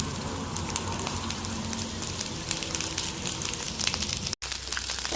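Okra frying in hot oil in a pan, a continuous crackling sizzle with scattered pops at close range that drops out briefly near the end and then comes back softer.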